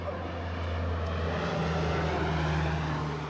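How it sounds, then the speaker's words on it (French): Propeller airplane hired by the Red Cross dropping sacks of sorghum over remote South Sudan, a steady droning engine hum with a strong low tone, constant and fairly close, with no talk. "quand l'avion fait tomber ses sacs"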